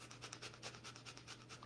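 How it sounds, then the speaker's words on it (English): Rapid, rhythmic nasal breaths puff in and out during a yoga breathing exercise, quiet and close, about a dozen quick bursts in under two seconds. "And now breathe very fast."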